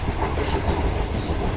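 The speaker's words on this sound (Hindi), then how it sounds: "और ये ट्रेन हमारी इस वक्त पर्ची जी वेरी रेलवे स्टेशन पर पहुँच रही है।" A desert safari train through the Thar Desert pulls into a railway station, its steady rumbling roll and wheel clatter loud and continuous up close, with no talk.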